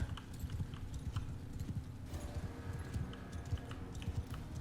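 Horse archers' hooves pounding in the Chatterlord video game, a rapid, steady clip-clop drumming at a fairly low, muffled level throughout.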